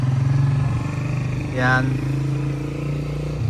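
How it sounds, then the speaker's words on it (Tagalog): A noisy motor engine drones steadily and loudly throughout, with a brief rising whine in the middle. Someone speaks over it. "maingay ang motor"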